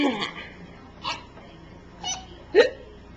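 A young child gives a few short, close hiccups, about four quick squeaky catches spaced roughly half a second to a second apart in an otherwise quiet room.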